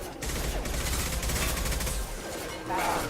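Rifle fire from the video game Mass Effect 2, a dense rapid burst of shots with a brief pause and more firing at the end, backed by game combat noise.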